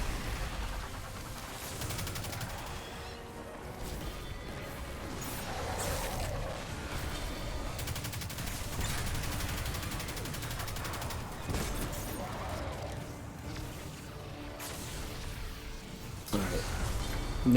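Gunfire while shooting enemies in Destiny 2, rapid shots and bursts crackling continuously over a busy background with occasional impacts, someone talking throughout.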